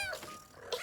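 Grisou, a cartoon cat, gives a short, close, high-pitched meow, a brief mewing cry at the start followed by a second rising squeak just under a second in.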